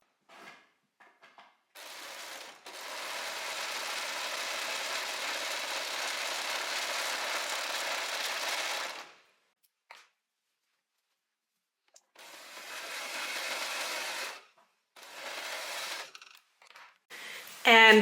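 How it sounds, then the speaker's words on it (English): An overlocker stitches a fabric seam in a steady, continuous whir for about six seconds, then stops and runs again in a second shorter burst, with brief clicks and handling noises between. "And now we're gonna overlock this part, and the same on the other side."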